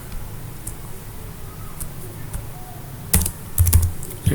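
Typing on a computer keyboard, scattered key clicks that quicken into a louder burst of taps near the end, close and clear over a quiet room background.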